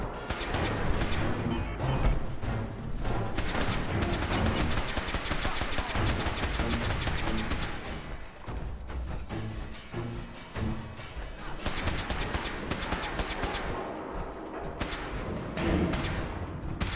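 Dense, continuous gunfire and crashing impacts from the video game Helldivers 2, loud and chaotic throughout with near-constant shots, thuds and explosions and only occasional brief lulls.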